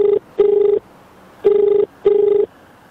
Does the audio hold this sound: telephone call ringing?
yes